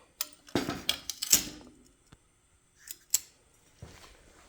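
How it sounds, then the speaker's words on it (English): Metal tabs being bent by hand for a homemade mini bike battery box in a garage workshop: a few sharp clicks and scraping clanks in bursts, then quiet gaps with a couple of isolated ticks. "bending the tabs"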